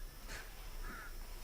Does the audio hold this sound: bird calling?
yes